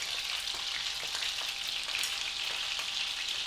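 Sausages frying in a pan for toad in the hole: a steady, bright crackling sizzle of fat, continuous and close, with small popping spits throughout and no voices.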